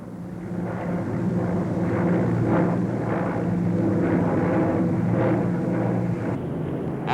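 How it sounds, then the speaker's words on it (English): A Victor jet bomber passes overhead in a sustained, loud roaring rush of jet noise that swells and holds steady, heard alone without voices. "The very latest in jet bombers, the Victor was there, making its first public appearance"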